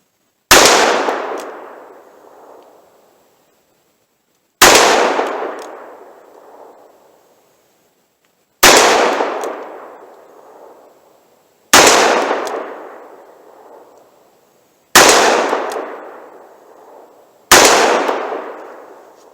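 Six sharp, loud .38 Special revolver shots with a 4-inch barrel, full metal jacket rounds fired at a target, each a hard crack with a decaying ring-out, spaced roughly three seconds apart with silence between.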